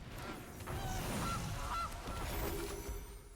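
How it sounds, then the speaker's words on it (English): A cartoon goose honks during a Magic: The Gathering digital match as a goose card is played. Several short nasal honks sound fairly faint over steady game background noise, with no talking. "Play my goose."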